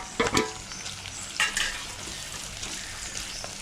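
Crushed shallots and garlic sauté in hot oil for a fish curry, a steady close sizzle punctuated by a few sharp scraping stirs of a spatula in the pan, no voices.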